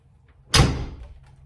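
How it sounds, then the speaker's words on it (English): A single solid thud as the door of a 1998 Jeep XJ Cherokee swings shut, close and loud with a brief low rumbling decay after the impact, no speech. "when I close this door"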